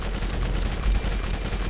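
Rapid gunfire in the Borderlands video game pounds at an enemy, a dense burst of close, loud shots with heavy low thumps, continuous and without talk.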